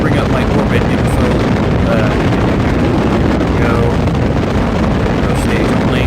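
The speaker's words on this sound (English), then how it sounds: "These are the loudest engines that I have access to currently" Loud high-thrust rocket engines in Kerbal Space Program roar in a steady, dense broadband rumble that fills the whole stretch without letup.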